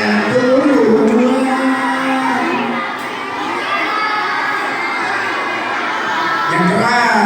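A crowd of children and grandmothers shouts back loudly to a storyteller at a Nuzul Quran gathering, a sustained roar of voices with whoops, dipping briefly midway before swelling again.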